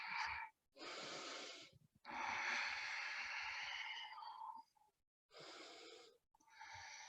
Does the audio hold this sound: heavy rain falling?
no